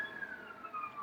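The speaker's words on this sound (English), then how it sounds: "there's a ambulance outside" An ambulance siren wails faintly outside as a thin steady tone that slowly falls in pitch, heard from a distance in an otherwise quiet room.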